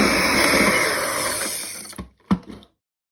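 An electric mixer creams butter, sugar and vanilla extract for chocolate biscuit dough, giving a loud, steady whirring drone for about two seconds that fades and cuts off, followed by a couple of short clunks. No one speaks.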